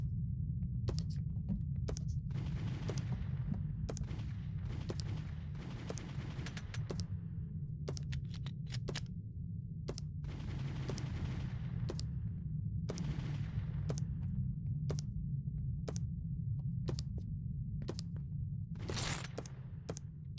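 Rapid bursts of video-game gunfire aimed at post-it notes, sharp cracks and volleys repeating in uneven clusters over a steady low hum, loud and close with no talking.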